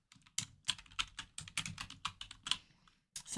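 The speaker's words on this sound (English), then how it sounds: "So I just need to type" Rapid, uneven keystrokes on a computer keyboard, tapped in short bursts with brief pauses, close and clear, while entering a SharePoint destination folder name.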